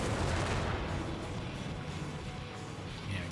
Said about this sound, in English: The Brumbar struggling to fire at the right target there.